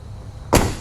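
A Polaris Ranger 1500 utility vehicle door shuts with a single close, solid thud after a quiet moment, alone without talk.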